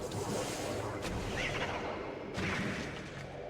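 Weapon blasts hitting enemies in Metroid Prime, heard as muffled, steady booming shots at moderate distance in a continuous low rumble.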